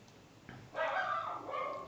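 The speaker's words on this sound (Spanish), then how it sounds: "mi perro está ladrando ahí" A pet dog barking indoors, one sustained yappy bark sequence after a brief quiet start, moderately loud and nearby.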